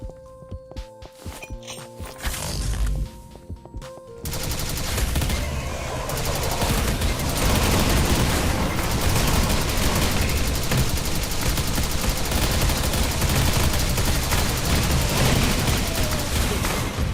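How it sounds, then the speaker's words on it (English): A plasma rifle fires in rapid, sustained bursts in a modded Doom video game, loud and dense after a few seconds of quieter mechanical game sounds, with thumping footsteps and booms mixed in. "that plasma rifle, that's got some good feedback on it"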